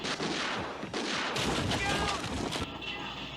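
Pistol gunshots in a scene from the film Aliens, several sharp cracks and bursts playing loudly over movie sound with people reacting.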